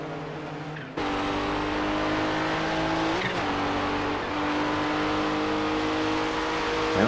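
GT race cars in a Kamel GT Championship round at Mosport roar past, with a sharp engine note starting suddenly and then a sustained loud, slightly shifting drone of revving motors.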